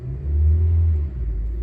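A 2017 Honda Civic with a damaged CVT transmission revs in drive, giving a steady, loud low engine rumble that swells and holds before easing slightly, close up with no voices.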